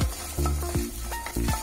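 Garlic and shallots heat in oil in a pan, with soft sizzling and a few short squeaky scrapes of a utensil stirring, heard up close with no talking.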